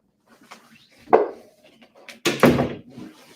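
A door creaks and thuds nearby, with a short bump followed by a louder, drawn-out groaning creak and knock, and no talk.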